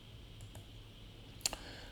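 Mouse click on the Step Out button in Visual Studio, one sharp close click followed by a softer second tick, with a couple of faint ticks earlier in a quiet room.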